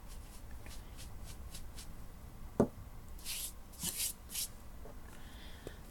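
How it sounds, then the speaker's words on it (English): A small brush is swept over freshly prepped nails in several quick, soft bristly strokes, close and fairly faint, with a light knock partway through and no talking. "So you just take a little brush and brush them down."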